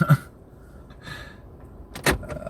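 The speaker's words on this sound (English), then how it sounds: "Now we're locking the doors" Car doors being locked, with a short mechanical clunk at the start, a faint whir in the middle, and a sharper thunk near the end, heard alone in a quiet space.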